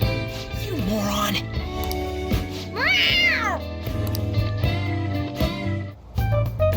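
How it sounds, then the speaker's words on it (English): A cat in the Persona 5 Royal video game gives a short meow, then a louder rising-and-falling meow, over game music with voices speaking around it. "A cat?"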